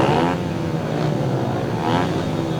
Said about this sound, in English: Bikes are revving away, green lights on.